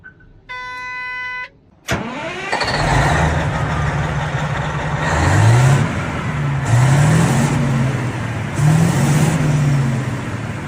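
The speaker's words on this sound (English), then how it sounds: "Behind me, Caterpillar's largest dozer," A Caterpillar D11R dozer, the maker's largest, cranks over with a sharp start and settles into a heavy, loud diesel rumble, revving up in several rising surges before easing back, close by with no talking.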